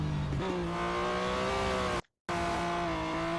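Race car engine from Real Racing 3, a steady high whine with harmonic tones shifting in pitch as the car overtakes slower cars on the penultimate lap, loud and continuous apart from a brief cut of silence.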